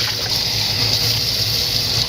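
Water runs steadily from a tap while dental stone is rinsed out of a mixing bowl, producing a continuous close hiss and gurgle with no voices.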